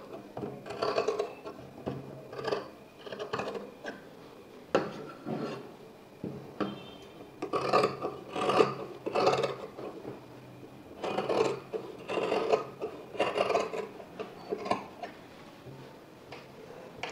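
Scissors cut through pinned lining fabric for a blouse, snipping the katori (cup) piece in repeated short crisp bursts with a soft rasping rub, close and fairly quiet, with no talking.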